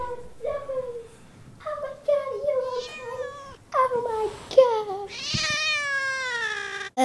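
A pet cat meows repeatedly and loudly up close, a run of drawn-out, rising and falling cries with short gaps between them and a longer wail near the end.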